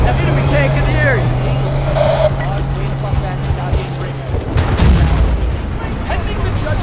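Loud, dense war-game din from Battlefield Bad Company 2: an enemy tank's steady engine drone and rumbling explosions fill the mix, with a heavier blast near the end, while radio-style voices speak over the battle.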